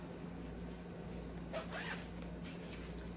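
A zipper drawn shut on a bread storage bag holding several loaves, a short close zip in one quick pull over low steady room hum, then quiet.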